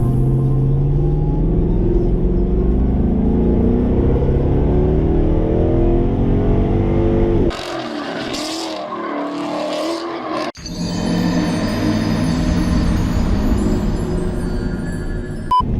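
Stock Ford Mustang lapping the Nürburgring Nordschleife, a loud, close engine drone rising and falling through revs and gear changes, with a brief rushing gap midway before the steady engine note returns.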